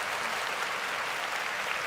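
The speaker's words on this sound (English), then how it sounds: "You get the round of applause for that." Steady, dense round of applause used as a sound effect in a sports talk show, loud and continuous throughout with no voices over it.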